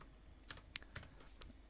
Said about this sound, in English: I'm gonna type console.log.